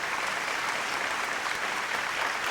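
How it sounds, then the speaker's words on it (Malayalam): Audience applause at a Malayalam tribute event honouring a businessman and his wife, a dense, steady wash of clapping throughout, loud and continuous with no voices on top. "എല്ലാവരും ഒരു നിറഞ്ഞ കയ്യടി ഗീതയ്ക്ക് നൽകണം."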